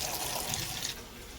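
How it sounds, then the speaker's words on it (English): Murky lake water used to soak crawdads being poured out, a steady close splashing gush that tapers off near the end. "dump out that nasty lake water with crawdad stuff in it"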